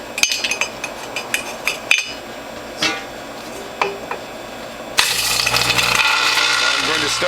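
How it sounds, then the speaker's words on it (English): Ice cubes drop into a juicer's cutter and feed tube, giving a few sharp clinks and knocks in the first seconds; the motor then starts grinding loudly and steadily from about the five-second mark to the end. "start by putting through some ice cubes to cool down the cutter and the feed tube"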